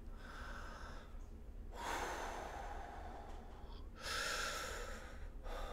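Deep, slow breaths during a guided meditation: two long airy exhales a couple of seconds apart, soft and close, with a quieter inhale between them and no speech.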